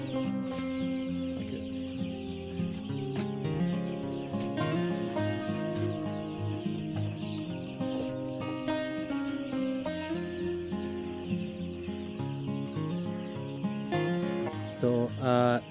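A coop of 550 young chickens on their seventh day of rearing, many birds clucking and cheeping at once in a dense, continuous chorus, close and lively, with no one talking.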